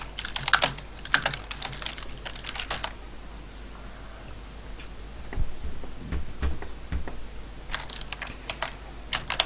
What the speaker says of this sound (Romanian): ce tastează Matei acolo